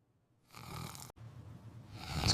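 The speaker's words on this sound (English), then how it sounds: "He's still snoring." A father snoring close by at night, slow rasping breaths rising and falling with a brief pause, quiet and alone.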